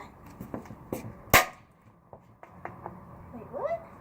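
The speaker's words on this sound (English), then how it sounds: "Shotgun." Airsoft shotgun fired once, a single sharp crack standing out amid scattered small clicks and taps, with a brief voice-like chirp near the end.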